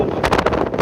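Loud, rough wind buffeting a microphone outdoors at a village goat market, a continuous rumbling roar with gusty pulses throughout.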